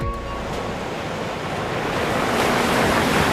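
Strong sea waves whipped up by a cyclone surge continuously, a loud, unbroken roar of surf building slightly toward the end, with wind buffeting the microphone throughout.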